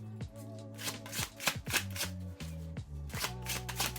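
A deck of tarot cards is shuffled by hand, a series of crisp riffling bursts and soft slaps in an uneven rhythm, close and clear, with no talking.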